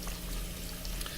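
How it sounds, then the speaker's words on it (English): Water from a hose splashes into a bucket in the video game Albedo: Eyes From Outer Space, a brief steady rushing fill. "We need to fill up the bucket with water because we need to complete the circuit."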